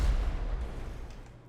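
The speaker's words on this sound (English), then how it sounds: "24 sticky bombs it took to blow this thing up" A sticky bomb blows up in GTA 5 with a heavy, close, booming blast that rumbles and fades away over about a second and a half.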